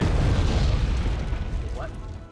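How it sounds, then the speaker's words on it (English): A heavy artillery explosion rumbles in the wargame Wargame, a loud deep boom with a rolling low-end tail that fades over about two seconds, with a faint voice briefly audible near the end. "We're getting some hits on that artillery, that counter battery."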